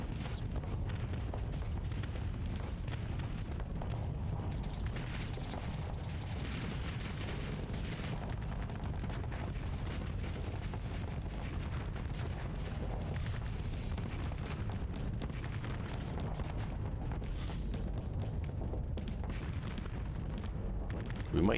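Spaceship broadside cannons firing in the Starsector space combat game: a long, unbroken rumble of booming shots and blasts that holds steady and loud throughout.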